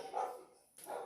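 A dog barks twice in the distance, faint and muffled, with the two short barks about three quarters of a second apart.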